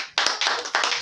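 Congregation applauding in a church service, a dense, continuous wash of many hands clapping with rhythmic surges, loud and close.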